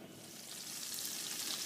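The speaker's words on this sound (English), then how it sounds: "butter and put it in a pan and let that reduce down" Butter melting in a pan gives a soft, even sizzle that builds slightly in strength over a short moment, with no voices.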